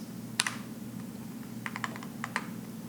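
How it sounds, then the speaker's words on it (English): A few scattered keystrokes tap on a keyboard: an isolated click, then a quick cluster of light presses, faint and close over a low steady hum, with no speech. "Keyboard works great"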